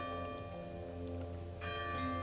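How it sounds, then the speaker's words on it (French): A church bell tolls a death knell in the video game Hands of Fate 2, a low, faint, sustained ringing tone with a second stroke swelling in near the end over steady game ambience. "J'espère que vous entendez la cloche, c'est le glas."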